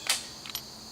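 A rifle trigger pulled on a 7.62x54 surplus round gives a sharp mechanical click as it misfires, followed by a couple of softer metallic clicks, close and quiet with no shot.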